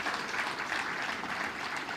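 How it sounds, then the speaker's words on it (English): A crowd at a State House event launching the Talanta Hela initiative applauds for a cabinet secretary, a steady, even wash of many hands clapping, fairly soft and distant, continuing throughout with no voices over it. "let's put a round of applause to Ababu Namwamba, my CS for Sports and the Creatives."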